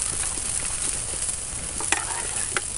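Eggs scrambled in a sizzling pan with grits over an outdoor cooking fire: a steady fry hiss under scraping stirs and a few sharp clicks of a utensil against the pan.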